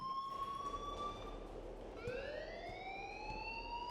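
An alarm ringing in the video game Life is Strange Remastered, a rising and falling electronic wail that dips and then sweeps upward again, loud and alone with no talk.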